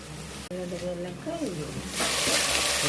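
Chopped onion sizzles in cooking oil in a home kitchen, a hiss that grows louder and brighter after the onion goes in, with a voice talking over the start.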